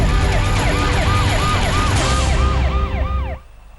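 An ambulance siren wails in a steady rising-and-falling cycle, loud and close, while carrying a body from Chennai toward Mizoram. It cuts off abruptly near the end, leaving only low background noise.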